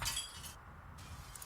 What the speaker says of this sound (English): Let's break this window